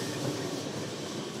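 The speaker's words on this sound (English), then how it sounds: "So, this tram is now waiting for another tram to pass." Lisbon's single-carriage tram 28 rumbles steadily along its street tracks, a constant low rolling rail noise with faint clicks, close and continuous.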